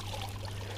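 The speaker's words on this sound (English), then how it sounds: "So this flow here is not by the pump, that's by the feed of the hose pipe." Water flows in from a hose pipe, a steady, close, continuous pouring rush with no voices.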